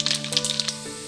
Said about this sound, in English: We have to splatter mustard seeds.